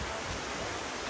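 Ocean surf rolling onto Hilton Head beach, a steady broadband wash of breaking waves with no distinct individual crashes, fairly loud and continuous throughout.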